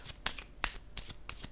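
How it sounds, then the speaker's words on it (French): A tarot-style card being placed down during a love reading, with several quick papery card snaps and shuffles in a close, crisp rhythm and no talking. "Je vais déposer une carte rose"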